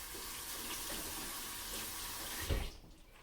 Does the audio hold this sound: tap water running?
yes